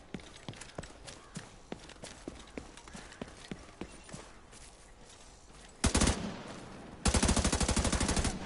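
Gunfire in the shooter game The Division 2: a steady run of single shots at an even rhythm, then two loud, dense bursts of rapid automatic fire near the end.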